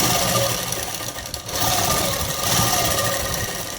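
A sewing machine stitches fabric for a child's dress, running in a continuous close whirring drone with a brief dip in speed partway through.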